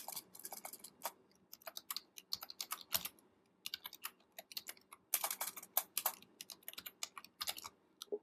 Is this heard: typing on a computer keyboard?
yes